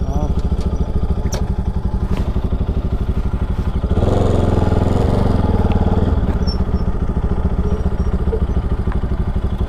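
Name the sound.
motorcycle engine while the bike is turned around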